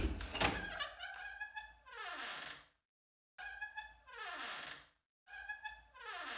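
A door sound effect in a horror video, heard three times with silent gaps between: each time a loud thunk, then a creaking, whirring slide that fades out, with no speech.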